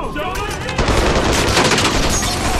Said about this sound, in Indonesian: Alhasil baku tembak pun tidak dapat dihindari.